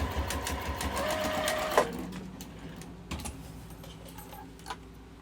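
Sewing machine stitching quilting-cotton fat quarters for a wallet: a rapid, mechanical needle clatter runs steadily close up, with a brief whirring motor pitch early on and a few clicks and pauses as the stitching slows.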